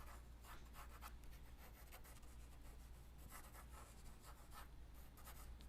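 Pencil drawing on paper, a soft, continuous scratchy rubbing with quick strokes repeating in an uneven rhythm, faint and close over a low room hum, without talking.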